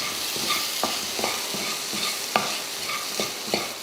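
Chopped boiled eggs being stirred into tomato masala frying in a pan, with a brisk run of repeated spoon scrapes and taps over a constant sizzle, close up and without any voices.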